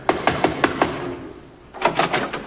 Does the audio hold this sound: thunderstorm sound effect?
no